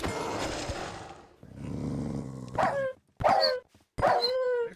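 Several dogs bark, growl and roar up close in loud bursts, with short gaps between the snarling outbursts.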